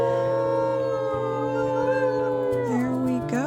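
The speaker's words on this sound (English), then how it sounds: "Do a nice little howl for the morning." A wolf in the Wildfire video game lets out a long, steady morning howl, close and clear, holding a sustained tone before breaking into a short, wavering upward yelp at the end.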